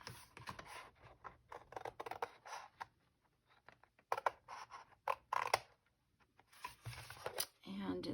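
Scissors cutting out paper from a William Morris folio page, a run of short crisp snips and rustling paper strokes at close range, broken by brief pauses, with a voice speaking at times in between.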